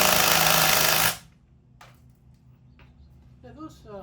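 A loud power tool buzzes for about a second on nuts of a 1927 Ford TT truck, then stops abruptly, leaving a quiet hum with a few faint clicks and brief voices.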